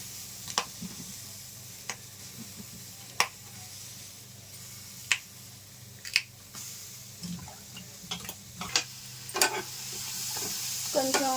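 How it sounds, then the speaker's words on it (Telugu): Tamarind pickle ingredients are dry-roasted in a pan without oil. Sparse scraping stir clicks sound over a low, steady hiss. "ఇందులో కొంచెం తడిపోయేంత వరకు ఆయిల్ వేయకుండా కొంచెం డ్రైగా వేయించుకుందాం."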